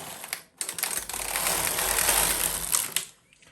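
Knitmaster MK-70 knitting machine carriage knitting a row in a second colour, a clattering mechanical rattle of needles that swells for a couple of seconds, framed by short clicks before and after.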